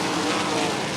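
USAC AMSOIL National Sprint Cars roar around the Millstream Speedway dirt oval, a loud, steady wall of high-revving engine noise from several cars bunched close together, with no voices.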